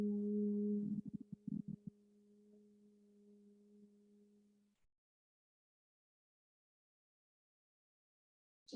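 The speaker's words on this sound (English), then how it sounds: "Now adding the B breath if you like, humming sound." A person hums steadily on a long exhale in a bee-breath breathing exercise done lying on the back, a clear sustained tone with a few breathy pulses early on, then silence until a brief noise at the very end.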